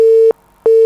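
Two beeps of a steady telephone busy tone sound as a call drops during an online Arabic conversation lesson. They are loud and clean, cut by a short silence.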